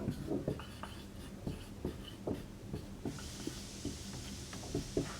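Pen scratching out notes during a Hindi chemistry lesson on calcium hydroxide, a steady run of short, soft strokes and taps at close range, with no talking over it.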